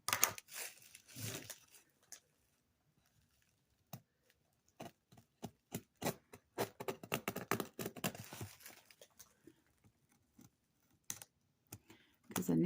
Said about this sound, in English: Because I need to cut the tape in this small space.